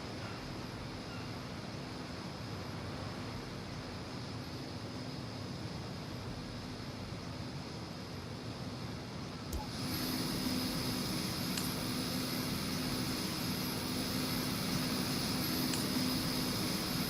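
A helicopter in the video game Marvel's Midnight Suns gives off a steady, airy engine hum at moderate distance, growing louder and fuller partway through as the drone carries on without speech.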